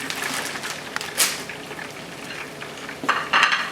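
Spring rolls frying in hot oil, a steady close sizzle with brief louder crackling bursts as the rolls settle, no voices over it.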